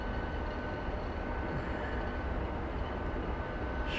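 A train running through a passage underneath, a steady broad rumble that holds at constant loudness from start to finish, fairly close, with no voices.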